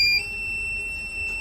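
Steady high-pitched electronic tone from a Microtek inverter's buzzer, holding as one continuous beep that wavers slightly and dips briefly near the start.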